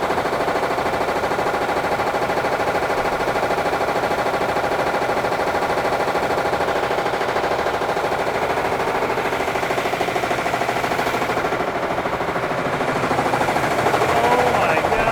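Fast factory stamping machines mounted on springs run at high speed, producing a rapid, relentless mechanical rattle and hammering that stays loud and steady throughout, with a brief dip before picking up again.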